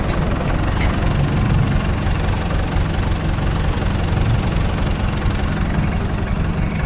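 A farm tractor engine runs steadily while reversing, a loud, close, continuous low rumble with a knocking, idling throb and no speech.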